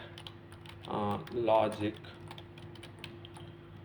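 Soft clicking keystrokes on a computer keyboard as code is typed, scattered taps running under a short spoken word from a nearby man.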